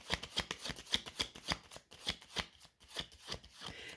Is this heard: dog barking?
no